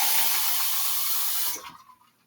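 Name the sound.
water being poured into a glass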